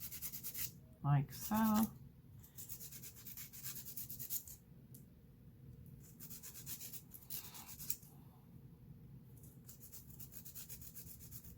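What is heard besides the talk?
hand rubbing across dip powder nails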